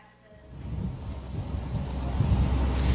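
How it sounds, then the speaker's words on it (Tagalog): Strong sea waves batter a boat on an 18-hour trip, a rough, rising rush of surf and wind noise buffeting the microphone, growing louder toward the end, with no clear talk. "ganito kalalakas yung mga alon na aming binabaka ngayon"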